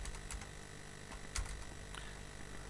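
Computer keyboard typing, quick irregular clicks and taps, soft and close over a faint background hiss.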